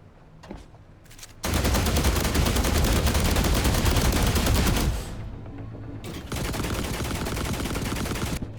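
Rapid rifle gunfire in The Last Caretaker, a dense sustained burst of shots for several seconds, a brief pause, then another long loud volley, close and dominant with no voices.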